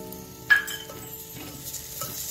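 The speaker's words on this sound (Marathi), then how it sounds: "आता हे पण छान मिक्स करून घ्यायचंय." A spoon stirs crushed ginger, garlic and green chillies into fried onion in a pan, soft scraping over a low sizzle, with one sharp clink of metal on the pan near the start.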